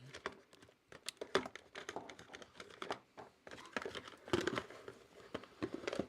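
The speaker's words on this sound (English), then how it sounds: "I'm going to just show you my hands typing on the keyboard so you can get an idea what that looks like" Hands typing on the keyboard of an MSI Cyborg 15 RTX 4060 gaming laptop: a quick, irregular run of light clicking keystrokes with short pauses, close and fairly quiet, with no talking.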